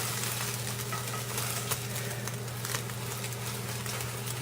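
Beaten eggs sizzle and crackle steadily in a hot frying pan while being scrambled, a dense continuous frying hiss close by with a low hum underneath and small clicks of stirring.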